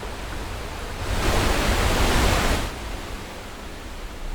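Loud, steady rush of a waterfall, with a broadband roar that swells for a second or two and then settles back to a constant wash.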